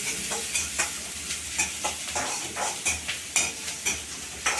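Onions fry in a pan with a continuous sizzle, and a spoon stirs and scrapes them in a regular rhythm of repeated strokes.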